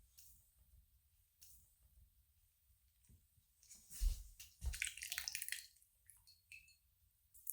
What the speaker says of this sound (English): we're good to drain out our potato liquid